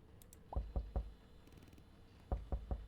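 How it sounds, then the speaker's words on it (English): Knocking on a cabin door in the video game Last Report: two sets of three dull, close knocks separated by a short pause, with no talking. "Knock on the door."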